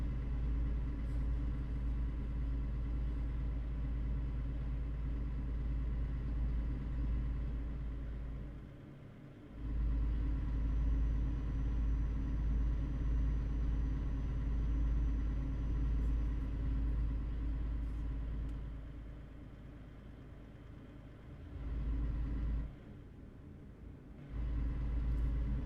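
A truck drives along a black ice road with a steady, deep engine rumble and road drone, briefly dropping away twice before returning, with no voices heard.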